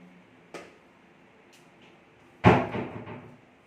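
A door is shut on a house construction site, one light knock followed by a louder sharp close with short rattling after-thuds, nearby and without talk.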